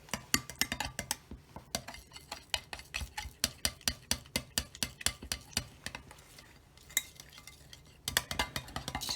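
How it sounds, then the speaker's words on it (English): A knife stirs gelli plate mixture in a bowl with a steady run of quick scraping clinks against the sides, pausing briefly before the rapid rhythmic stirring picks up again. "I'm going to mix with a knife"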